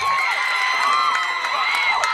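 A high school football crowd at Robert Morris Field roars and cheers continuously, loud and sustained, with shouts and whoops rising above the mass of voices.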